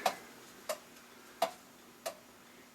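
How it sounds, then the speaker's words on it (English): Regular, crisp ticks from a restored International time recording clock, evenly spaced about 0.7 seconds apart, moderately quiet and alone. "And the ticking you hear in the background is my time clock."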